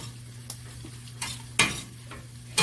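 Stirring a breakfast bowl mixture in a pan, with a spoon scraping and clinking against the metal a few times over a low sizzling hum.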